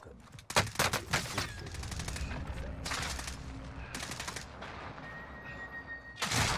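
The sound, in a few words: gunfire in video game Call of Duty Warzone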